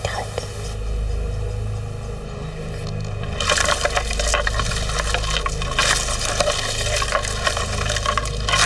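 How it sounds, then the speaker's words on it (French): A branch cracks in a forest in Haute-Mauricie during moose watching: sharp splintering wood snaps and crackles, fairly close and loud, building after a few seconds over a steady low hum. "Branche qui craque."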